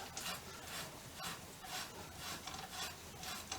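Painted bolt threads on a 1959 BSA C15T motorcycle grinding and rasping as the bolt turns through fresh paint, a quiet repeated scraping in short regular strokes, close and alone.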